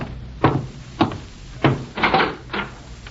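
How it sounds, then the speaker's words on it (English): Knocks on a wooden door for a radio drama, a series of five firm, evenly spaced raps, close and alone with no talk. "I'm getting cleaned up before going out to meet my FBI contact when I'm interrupted by a knock at the door"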